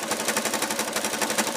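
A sewing machine zigzag-stitches strips of batting together, its needle thumping in a fast, even, steady rhythm, close and loud with no talking.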